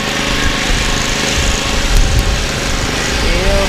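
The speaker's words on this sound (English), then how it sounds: "There's got a zero turn of the John Deere there." A John Deere zero-turn lawn mower runs through a parade, its small engine a steady buzzing drone held at an even level throughout, with crowd noise and faint talk mixed underneath.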